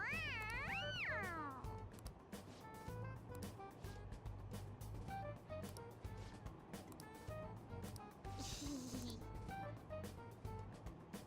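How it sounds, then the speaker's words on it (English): Several high, wavering meows from a stuffed toy cat in the video game Persona 5 sound close up at the start, then a busy, cluttered background continues with a faint squeak later. "it's just a toy, it meows when you press on its head"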